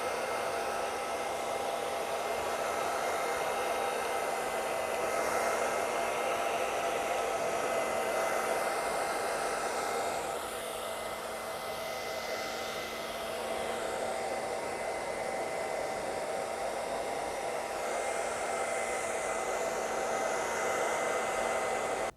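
A hair dryer blowing steadily on short buzz-cut hair, a continuous whooshing hum with a slight dip in airflow partway through, close and alone without speech.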